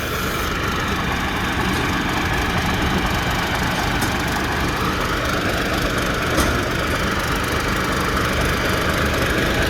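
A new Somboon Pattana combine harvester with an air-conditioned cab idles in a field in Buriram, Thailand, giving a loud, steady, low engine rumble with constant vibration and no talking.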